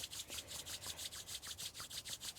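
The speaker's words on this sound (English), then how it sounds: "Taking the hands together and giving them a rub" Palms briskly rubbing together at close range, a soft rhythmic swishing of about a dozen quick even strokes, quiet and unaccompanied by speech.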